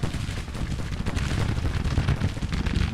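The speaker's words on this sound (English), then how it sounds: "says we're under bombardment" Artillery bombardment on a Civil War battlefield in the Grand Tactician video game, a continuous loud rumble of overlapping booms and distant cannon thuds rolling without pause.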